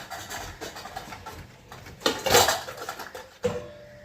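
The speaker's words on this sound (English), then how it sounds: "Add a bit of the tamarind chutney to this. Mix it all really well." A spoon clinks and scrapes around a bowl while channa chaat is stirred together with tamarind chutney, giving soft, close stirring sounds with a couple of louder clatters.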